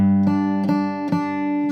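Guitar tremolo picking on a D note within a scale, quick alternating strokes producing a few rapid repeated attacks over a sustained ringing tone, close and clear without talk.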